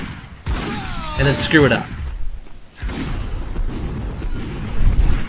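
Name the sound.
gunfire in Max Payne video game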